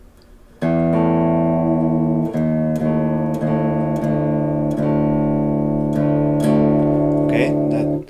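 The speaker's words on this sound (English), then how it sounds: "I have to drop my 6th string from an E down to a D." A guitar's sixth string being tuned down from E to D, with a low note plucked repeatedly and left ringing while other strings sound alongside, each pluck sustaining loudly before the next, with no speech.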